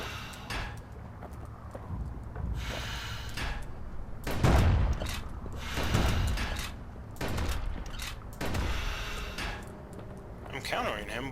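Gunfire from an enemy in the video game Bastion crackles in repeated bursts amid game effects and booms, fairly loud and busy, with someone talking over it.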